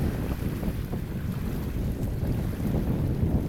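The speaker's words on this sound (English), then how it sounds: "The peaceful melody of the ocean, the wind that it brings" Ocean waves roll in under strong, gusty wind buffeting the microphone, a dense continuous rush and roar at close range.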